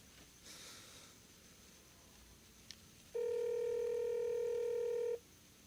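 A telephone call to mom starts with a steady, loud dial-style tone lasting about two seconds over quiet room background, after a faint brief click.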